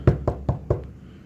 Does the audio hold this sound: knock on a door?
yes